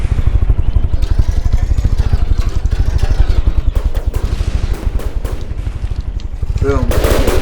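Rapid machine gun fire in the game From The Depths, rounds striking an aircraft's tail: a loud, dense, steady stream of booming shots that keeps going, with speech faintly underneath.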